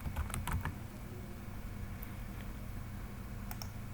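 Computer keyboard typing while entering date and time into an Excel invoice sheet: a quick cluster of close, crisp key clicks at the start, then sparse single taps over a quiet room hum.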